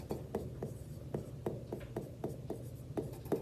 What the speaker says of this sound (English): So I'm just going to write everything down.